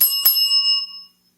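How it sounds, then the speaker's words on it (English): A small toy bell is struck twice in quick succession, loud and close, its bright metallic ring lingering and fading out within about a second. "Can I get you guys to communicate with the toy bell there?"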